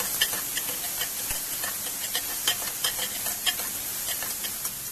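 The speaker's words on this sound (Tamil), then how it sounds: "இது நல்லா ஃப்ரை ஆகுது." Capsicum frying in a pan for chilli idli, a steady oil sizzle under repeated scraping strokes of a spoon stirring the pieces, close and fairly loud.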